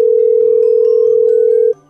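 A telephone ringback tone plays while a call waits to be answered: one steady, loud, unbroken beep lasting under two seconds, then cut off into near silence.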